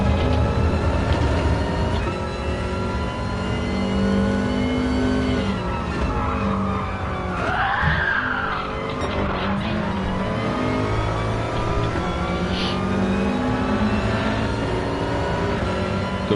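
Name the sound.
race car engine at Brands Hatch, from video game Gran Turismo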